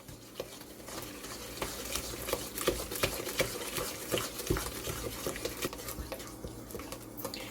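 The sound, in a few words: mixing sugars for banana streusel muffins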